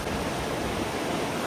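The Bhagirathi, a stretch of the Ganga at Haridwar, rushes past in a steady, dense roar of flowing water. The wash is loud and close, unbroken from start to finish, with no voices over it.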